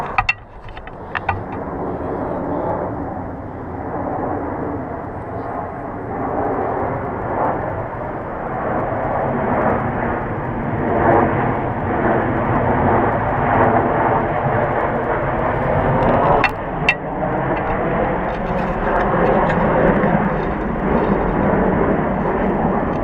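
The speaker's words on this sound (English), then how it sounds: "Well, the Navy's here with the F-18s." Navy F-18 jets near Naval Air Station Whidbey Island roar overhead in a loud, sustained rumble that swells and holds for over twenty seconds.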